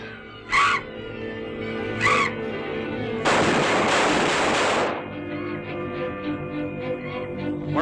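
Gunshots fired at a bat in a 1940 horror film scene, a loud broadband burst lasting over a second amid an old movie soundtrack, with brief sharp sounds before it.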